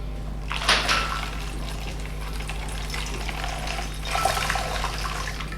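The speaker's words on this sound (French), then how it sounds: "On va verser l'eau très chaude." Very hot water poured into a bottle holding gas, in two bursts of splashing pour, the first near the start and the second toward the end, over a steady low hum.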